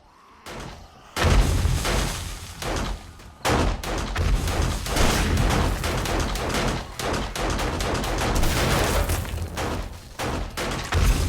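Pipe bombs go off during a horde night in the game 7 Days to Die: a loud, continuous barrage of booming blasts and rapid cracking bursts, close and overlapping for several seconds.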